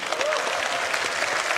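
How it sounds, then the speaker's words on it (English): An audience at the CitizenCon 2954 live event breaks into dense, steady applause. The clapping carries evenly through the moment, with a brief voice audible over it. "can we get a round of applause for Tyler and Leah"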